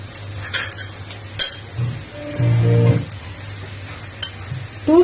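Onions frying for a mackerel curry in coconut milk sizzle under a pan, while a spoon scrapes and stirs in a few loud bursts near the middle and end.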